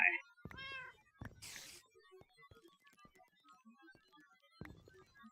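A cat meows repeatedly indoors, a clear drawn-out cry near the start followed by a burst of noise and softer, scattered meows and thumps around the room.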